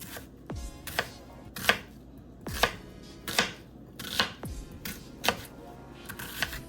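A knife roughly chops onion on a cutting board for homemade spaghetti sauce, a brisk run of close, regular thuds and crisp cuts with no talking.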